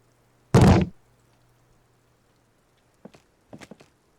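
A single heavy kick thuds against a barred door in Disco Elysium, a loud booming impact followed by a short silence, then a few faint rattling clicks of the bar shifting in its brackets.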